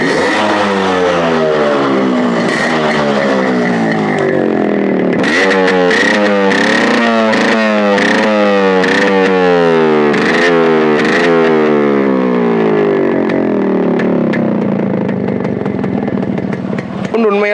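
A close, loud two-stroke RX 93 model motorcycle engine runs steadily and is revved up and down repeatedly in rising and falling sweeps, with a buzzing, raspy tone throughout.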